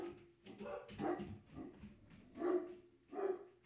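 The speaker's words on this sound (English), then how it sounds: "The dogs barking" Dogs bark in several soft, muffled bursts at a distance, spaced irregularly across a quiet background.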